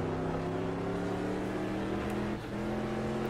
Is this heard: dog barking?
no